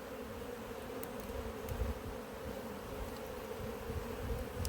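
Steady insect buzzing at a beehive in an apiary, with a wasp among the bees around a heavy box of capped honey; a continuous low hum fills the scene with no voices.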